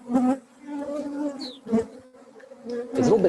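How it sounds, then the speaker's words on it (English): Insects buzz close by in the Arctic summer wilderness, a steady droning hum that swells and fades over a few seconds, with one louder burst near the end as a bug passes near. "one actually gets used to even the mosquitoes"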